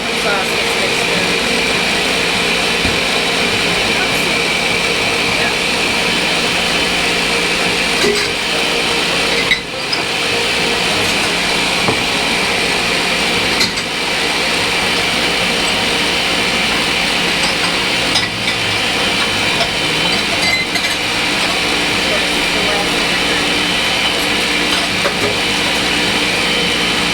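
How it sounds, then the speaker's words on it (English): Electric blender mixing Irish cream liqueur with chocolate sauce: a loud, steady motor whir with a few brief dips, running continuously close by. "And we'll just let that blend till it mixes, right?"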